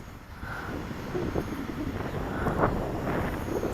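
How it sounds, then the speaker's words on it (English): Breezy gusts buffet the microphone outdoors near a soccer field while an Eachine P40 Warhawk 4-channel RC plane flies, a continuous low rushing roar that swells slightly, with a faint voice underneath. "It's a little bit too breezy."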